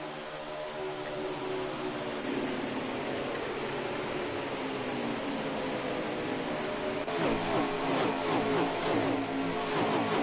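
Race car engines roar in the video game NASCAR Heat 5 at Las Vegas, a dense, continuous drone of several cars that rises into a louder, harsher revving pass near the end.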